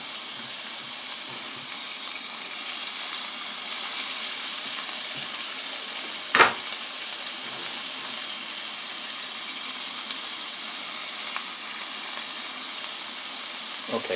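Braciole beef rolls browning in a hot frying pan give a steady, even sizzle throughout, with one brief louder crackle midway and no talking.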